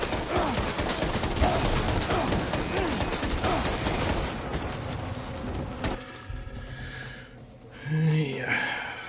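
Gunfire in Death Stranding 2: On The Beach, rapid bursts of shots crackle densely for several seconds and then drop away. Game sounds and a voice carry on after the shooting stops.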